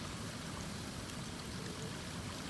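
Water rushes steadily through an RV black tank flush hose during a tank flush, a continuous close-up gushing wash that holds an even level throughout with no pauses.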